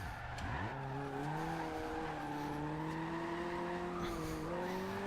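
A 2016 Mazda MX5 drifting in Forza Horizon 2, its engine droning steadily while tires squeal through long sliding swings, the pitch rising gradually as the car holds the drift.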